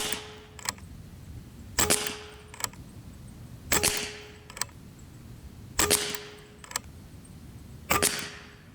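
An unregulated FX PCP air rifle fires about five sharp, close shots roughly two seconds apart, each crack followed moments later by a lighter metallic click, over quiet background hiss.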